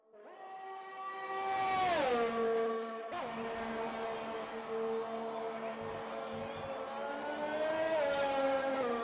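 An F1 2020 race car in the video game screams out of a hairpin at the Canada GP, its engine note climbing sharply, dropping on an upshift, then rising again, loud and alone.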